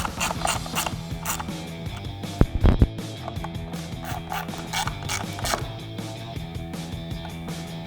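Bolts on a fog light bracket are tightened on a 2013-2018 RAM 1500 truck, giving a close, busy series of ratchet clicks and metallic mechanical clatter, with a brief louder clunk near the middle.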